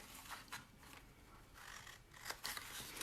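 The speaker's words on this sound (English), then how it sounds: "So I'm going to cut up these other vertical score lines here" Scissors snipping along score lines in paper for a holiday gift bag, heard as a quiet close-up series of crisp, uneven cuts and rustles, with no one speaking.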